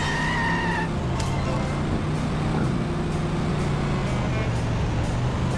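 A family sedan drives through traffic in Simpsons: Hit & Run, its engine a constant loud hum with a brief tonal chirp at the start and steady road noise throughout.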